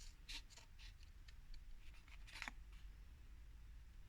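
Paper being cut with scissors during a junk-journal belly band craft project, a series of quiet, irregular snips and rustles close by with no talk.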